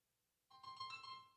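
A phone ringtone starts abruptly after a moment of quiet, a short electronic warbling ring, fairly faint and alone.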